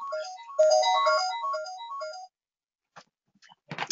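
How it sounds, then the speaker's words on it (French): A telephone plays a melodic electronic ringtone of quick descending and rising notes for about two seconds, then falls silent before a few short noisy bursts. "Donc là, c'est le célèbre téléphone."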